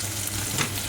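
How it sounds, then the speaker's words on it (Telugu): Paneer pieces sizzle steadily in hot oil in a pan, a close, continuous frying hiss with no break. "ఇప్పుడు మనం పన్నీర్ ముక్కల్ని ఒక్కొక్కటిగా ఇందులో వేసి ఫ్రై చేసుకుందాం"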